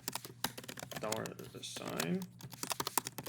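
Steady, quick clicks of typing code on a computer keyboard, close and continuous, with someone talking over the keystrokes throughout.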